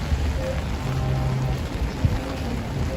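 Steady freezing rain hissing down onto a Manhattan street on New Year's Day, a dense, continuous wash of noise with a faint low rumble and a brief knock partway through.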